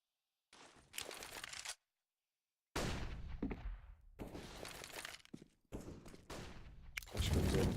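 Bursts of gunfire in Counter-Strike: Global Offensive during an ESEA competitive match, including an AWP sniper rifle: sharp, loud shots and rapid volleys separated by short silences, with a crash and clatter between them.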